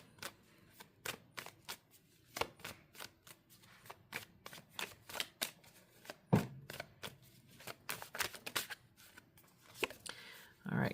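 A deck of tarot cards is shuffled and drawn in a series of crisp riffling flicks and slaps, close and fairly quiet, with a louder snap partway through. A voice talks softly between the card sounds.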